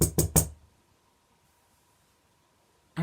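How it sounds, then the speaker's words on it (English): Three quick, sharp knocks on a door as a sound effect in a children's bedtime story, close and loud, followed by near silence and a brief thud at the very end. "They heard a knock on the door."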